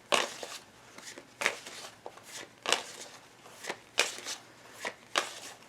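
Tarot cards being shuffled and handled close up, a series of sharp papery riffles and slaps recurring roughly every second in a quiet room, with no talking.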